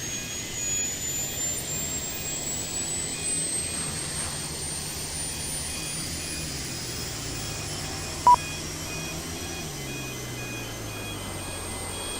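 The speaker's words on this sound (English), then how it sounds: "Alright, APU started up." An Embraer E175 auxiliary power unit in a flight simulator spools up as a steady, rising jet-engine whine with a low rumbling hum, running continuously at moderate volume, with one brief click partway through.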